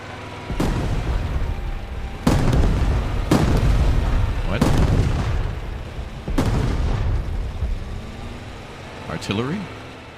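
Artillery fire in the WWII tank video game Call to Arms: Panzer Elite, heard as five heavy booms spaced a second or two apart, each with a rumbling tail, while a player talks in between.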